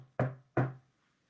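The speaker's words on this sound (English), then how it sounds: "their mums came by and knocked on the trash can" Two hollow knocks on a trash can, evenly spaced and close, each with a short resonant ring that fades before a near-silent tail.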